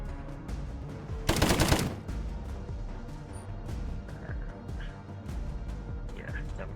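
A long burst of automatic gunfire in the Colony Ship RPG, one loud rapid rattle lasting under a second. Softer game sounds come before and after it, and people talk over the gameplay.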